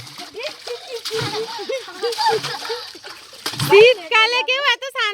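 Water splashes as a child bathes at a rural village fair, in short irregular splashes and sloshes mixed with a voice and other people talking close by.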